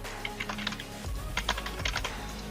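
Rapid typing on a computer keyboard while entering text into spreadsheet cells, a steady run of close, crisp key clicks with a low hum underneath.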